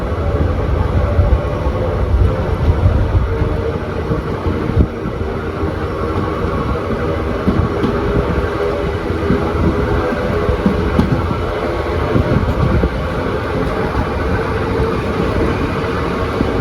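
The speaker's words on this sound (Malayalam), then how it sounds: "WDP 4Dയുടെ പിക്കപ്പ് ഉണ്ടോ നിങ്ങൾ? എന്താ അല്ലേ, സ്റ്റേഷൻ്റെ പ്ലാറ്റ്ഫോം കഴിയുമ്പോഴേക്ക് സ്പീഡ് കയറി." A passenger train hauled by a WDP4D diesel locomotive gathers speed past a station platform on the Talguppa–Bengaluru line, a dense continuous rumble of wheels and engine with rattling carriages, loud and close throughout.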